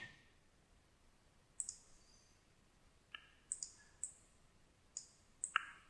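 Sharp computer mouse clicks in small clusters, roughly eight quiet, dry taps spread across the span with pauses between, close and alone in a quiet room.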